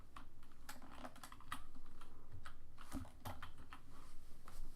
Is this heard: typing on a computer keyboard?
yes